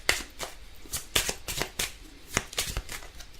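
A deck of oracle cards is riffled and shuffled by hand in quick, papery bursts, about a dozen sharp flicks in a row, close and clear.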